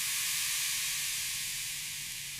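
Boiling water poured over ragi flour and semolina in a pan gives a steady, loud hiss of steam that fades slightly over a couple of seconds, with no voices.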